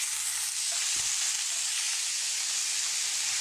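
Ground meat seasoned with garlic salt browning in a pan, giving a steady, close, bright sizzle that hisses evenly throughout, with a faint soft knock near the start.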